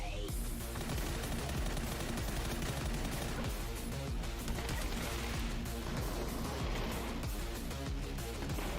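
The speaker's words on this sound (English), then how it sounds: "Sawed-off shotgun," A sawed-off shotgun fires in a PUBG esports match, its blasts merging into dense, almost continuous gunfire that stays loud and close for the whole stretch.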